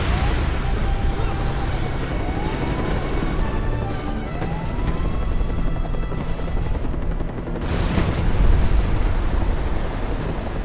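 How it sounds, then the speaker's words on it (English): Explosions from a bombing run in a video game, with structures groaning and collapsing, form a constant loud rumbling roar with a whining mechanical tone and a stronger crash near the end. "The bombing run did enough destabilization to start making things collapse on themselves"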